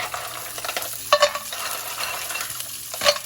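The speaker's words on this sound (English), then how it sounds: "the next thing we're gonna do is we're gonna add our clams, okay, into this oil" Two pounds of clams tumble into hot oil in a pan for linguine with white clams, giving a steady close sizzle with scraping stirs and a few clattering shell knocks.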